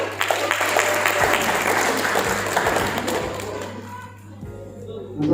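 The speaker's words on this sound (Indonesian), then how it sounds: "Aplaus dulu." An audience at a political school event breaks into applause, a dense burst of many hands clapping that thins out and fades after about four seconds, with a few scattered claps near the end.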